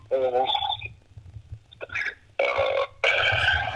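A person lets out several loud, drawn-out burps in quick succession, close up, some with a voiced, almost speech-like quality, separated by brief pauses.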